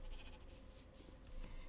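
Minecraft sheep in a new pen area bleat in a short burst, game audio fairly loud and alone over a steady background hum.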